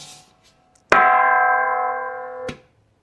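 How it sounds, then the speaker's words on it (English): A thrift store gong is struck once, giving a loud bright clang that rings on with a sustained shimmering tone before being cut off by a second tap about a second and a half later. "So this gong, which I will ring for you because I love you guys."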